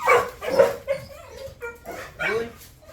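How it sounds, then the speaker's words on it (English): Dogs bark and yip in short, close bursts inside a home, with a few whimpery yelps mixed in. A person's voice can be heard briefly among the barks. "the dogs are probably going to go absolutely ape for a little bit"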